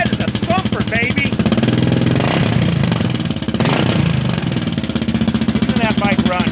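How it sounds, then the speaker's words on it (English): A Kawasaki KLR 650 single-cylinder thumper, revived after sitting three years, idles close by with a loud, rapid chugging pulse and a brief rev in the middle, while someone talks over it. "Listen to that bike run, man. No backfiring."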